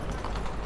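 Horse hooves clip-clopping in the video game Rome Total War, a brief steady patter of hoofbeats at moderate loudness with a voice faintly underneath.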